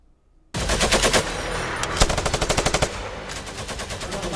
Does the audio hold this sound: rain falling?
no